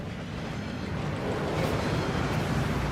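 A steady, rushing wash of falling water at the Gringotts waterfall in the game Hogwarts Legacy, a continuous broadband roar that holds even and slightly swells, with no voices.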